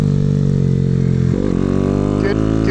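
A minibike engine drones loudly and close, holding a steady buzzing idle before a quick rev blip and slight change in pitch, with a faint voice briefly underneath.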